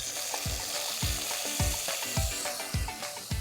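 Eggplant and vegetables sautéing in hot oil in a pan, a steady loud sizzle with repeated stirring strokes about every half second, no talking.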